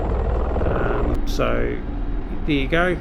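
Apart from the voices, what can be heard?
Mi-24 Hind helicopter after landing, from video game DCS World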